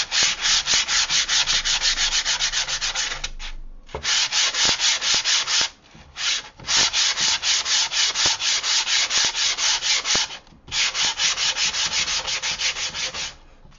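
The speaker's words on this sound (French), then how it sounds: "Et on y va, on ponce tout simplement." Hand sanding of a painted surface with 150-grit sandpaper, a close, loud, rhythmic back-and-forth rasp in fast even strokes, broken by a few short pauses.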